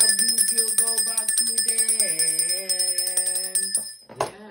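A bell rung repeatedly in a steady, bright series of close, ringing strikes with long shimmering overtones, the tones wavering mid-way before fading out.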